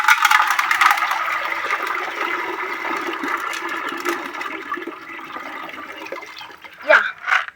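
Water is poured off washed maize and beans for githeri. A steady rushing stream splashes out for several seconds, then ends with a few louder sloshes and drips.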